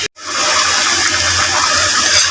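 Water and boiled beef trotters are poured from a cooking vessel into a pot in a continuous, loud gushing splash that starts abruptly after a brief silence and carries on steadily.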